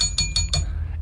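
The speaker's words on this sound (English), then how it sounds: "Great bell." A bell rung in a radio studio, three bright, close metallic dings in quick succession, each one ringing out briefly, the last fading into a low room hum.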